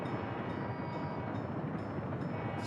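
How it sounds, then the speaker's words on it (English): Trains rolling into an end station in the Workers & Resources city-building game, a steady, dense rumble of rail cars running continuously throughout with no voices. "we've got lots of trains coming in here"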